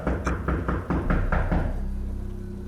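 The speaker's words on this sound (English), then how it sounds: "Karina, did you hear that knocking?" Someone knocks on a door in a house feared to be haunted: six firm, evenly spaced raps, close and loud, followed by a lingering low hum.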